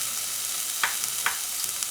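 Mushrooms, carrots and leek brown in a hot pan with a steady, bright sizzle, broken by two short louder bursts as the vegetables are stirred, close up and without voices.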